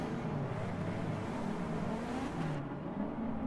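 Multiple car engines droning and revving together at the start of a nighttime race in Forza 6, with a Mazda RX-7 among the field; a steady, close mechanical roar with rising pitch as the cars accelerate.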